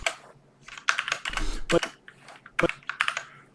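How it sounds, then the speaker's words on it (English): A new computer keyboard being typed on up close, with bursts of crisp key clicks in uneven clusters and a few heavier thumps, fairly loud and with no talk over it. "Sometimes I will be pressing buttons on my keyboard."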